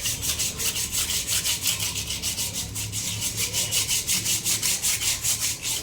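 A Royal Enfield silencer is rubbed down by hand before painting, a close, loud, steady back-and-forth scraping of about twenty even strokes, with no talking.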